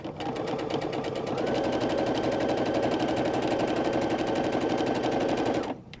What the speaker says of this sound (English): Now I'm just going to sew this with a 1/4 inch seam